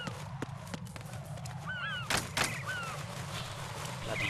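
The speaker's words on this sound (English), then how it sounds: "Bloody birds." Bird calls in the stealth video game Metal Gear Solid 2: a few short, chirping calls scattered over a steady low ambient hum, with a couple of sharp thuds partway through.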